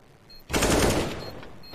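A sudden, loud burst of rapid gunfire in Counter-Strike: Global Offensive, a harsh wash of shots that starts abruptly, stays full for about half a second and then tails off.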